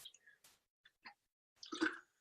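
A single sip of water, heard close and quiet: a few small wet clicks and drips, then a brief slurp and swallow near the end, with no talk.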